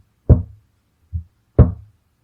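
A voice imitates knocking on a door: three sharp, close knocks, the first and last strong and the middle one softer, with short silent gaps between them.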